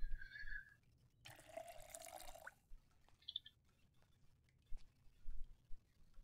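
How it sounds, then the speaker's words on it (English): Water pours briefly into a watering can in the game Project Zomboid, a short splashing fill burst amid quiet game ambience with a few faint drips and clicks. "I'm just gonna fill this watering cup, or watering can up again."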